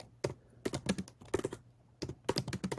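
Keyboard typing while a note is written down, heard as several bursts of quick, close clattering keystrokes separated by brief pauses, with no voices.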